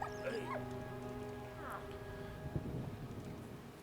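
A dog in the World War I video game Valiant Hearts: The Great War gives short whimpers and yips over a steady droning hum and soft rain-like background, moderately close.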